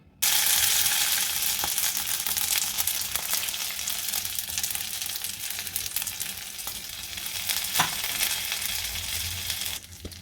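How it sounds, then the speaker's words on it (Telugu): Dry chilies, cinnamon, cloves, pepper and poppy seeds sizzle steadily in a little oil in a pan, a loud continuous hiss of frying with occasional soft stirring scrapes throughout. "ఫస్ట్ ఇది ఎండుమిరపకాయలు, పట్ట, మొగ్గ, మిరియాలు, కొద్దిగా గసాలు ఇంతవరకు వేసి వేయించుకోవాలండి"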